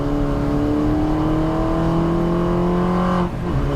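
A Mini Cooper S race car in the Mini Challenge races at Brands Hatch in the wet, its engine loud and close with a steady high drone, then a quick gear change around the three-second mark as revs drop and climb again.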